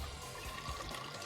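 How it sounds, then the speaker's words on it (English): Mike's Hard Lemonade poured into a glass, a steady close liquid rush running for just over a second without a break and with no talk over it. "Pouring that Mike's Hard Lemonade"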